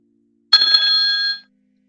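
A single electronic ring on an outgoing phone call, one clear tonal burst about a second long that sounds alone and then falls silent.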